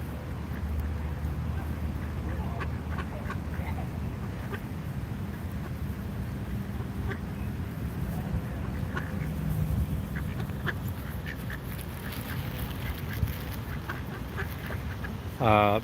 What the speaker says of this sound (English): we got a whole contingent of grass ducks, including our friend, the white duck